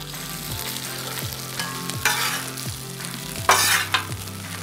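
Breakfast food frying on a Blackstone griddle, a constant sizzling hiss broken by a couple of louder bursts as pieces are flipped, with scraping of a spatula across the steel.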